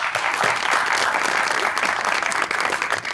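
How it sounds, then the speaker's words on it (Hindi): Dense studio audience applause fills a Pakistani TV talk show set, a steady, loud wash of many hands clapping throughout with no talk over it. "देखो फिर तालियां।"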